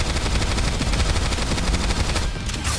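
Rapid automatic gunfire from the video game NIKKE, loud bursts of shots rattling continuously with dense, heavy impacts over a booming low end.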